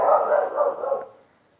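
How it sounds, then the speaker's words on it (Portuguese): A dog barks in a muffled, sustained burst of several quick woofs at moderate volume, fading out after about a second. "E meu cachorro tá latindo."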